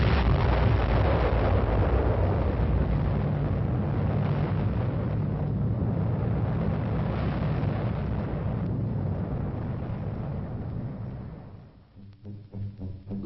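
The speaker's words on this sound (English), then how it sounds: "The observation area is some 18 miles behind Ground Zero, still near enough for a close-up view of the explosion." Atomic bomb test explosion in the desert, heard from an observation area about 18 miles from Ground Zero: a loud, continuous low roar with wind-like rumble sustained for about eleven seconds, then fading into fluttering gusts.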